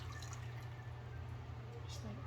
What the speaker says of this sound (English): I'm going to go ahead and add that that 1 3/4 cup of seasonings with hot water